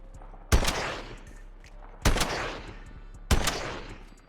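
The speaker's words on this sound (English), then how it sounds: "It's an anti-material rifle right here, boy. 50 cal with the explosives." Three heavy, booming shots from an explosive .50 cal anti-materiel rifle in Fallout 4, spaced about 1.5 seconds apart, each a sharp crack trailing into a rumbling decay.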